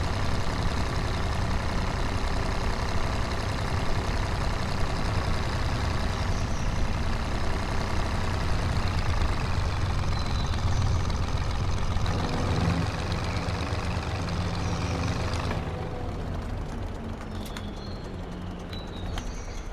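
A truck engine runs in Farming Simulator 25 on a farm map in blizzard conditions, a steady drone that keeps going for most of the stretch, drops off near the end, and is joined by game bird calls.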